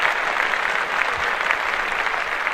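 Hand clapping from a small studio group during a casual podcast recording, a dense, steady patter of many claps sustained throughout without talk.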